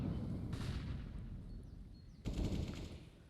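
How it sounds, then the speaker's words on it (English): Gunfire rings out from the apartments on the Inferno map during a professional Counter-Strike: Global Offensive match, a quick burst of shots over steady game ambience followed by a louder second volley near the end. "Shots fired from the apartments"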